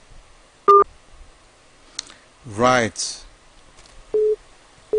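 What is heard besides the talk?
busy tone after a phone call-in dropped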